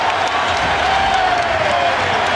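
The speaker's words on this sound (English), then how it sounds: "the crowd is in a frenzy" A basketball arena crowd roars and applauds in a steady, loud wash during a 76ers versus Toronto playoff game, with no single voice standing out.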